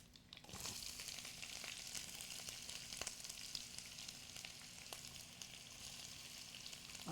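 Curry leaves and onions fry in a hot pan with constant crackling sizzle and scattered sharp pops, steady and close throughout.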